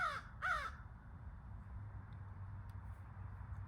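A crow caws twice in quick succession, clear and fairly close, then only a low steady background rumble remains with no further calls.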